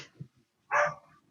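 A dog gives a single sharp bark, close and fairly loud, after a faint low whimper or grunt, with nobody speaking.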